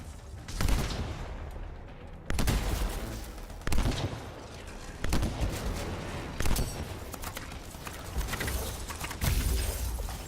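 Gunfire rattles in the video game Anthem, with bursts of shots and heavy impact cracks recurring about every second or so over a dense, continuous backdrop of combat noise.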